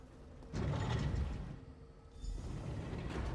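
Heavy stone door mechanism grinding open in the fantasy game Skyrim, two low rumbling mechanical bursts with creaks and gear-like rattles, close and fairly loud, no voices.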